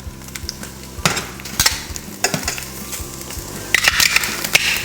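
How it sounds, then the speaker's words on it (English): Kielbasa sizzles and spits in a scorching hot pan, a loud continuous fry with sharp crackles and scraping stirs of a utensil against the pan, with no voices. "And I've got this pan scorching right now."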